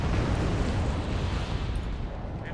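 Sustained rumbling barrage of explosions and gunfire from return fire in the Wargame Red Dragon battle, dense and steady throughout with no clear gaps.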